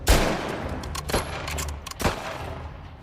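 Bursts of video game gunfire in a shooter match, with several sharp shots clustered near the start, around one second and again just after two seconds over a steady background of game noise.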